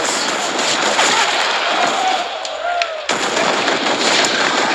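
Rapid automatic rifle fire from a CS:GO professional match rattles loudly and continuously through the moment an ace is completed, a dense stream of shots with a brief gap before the bursts resume.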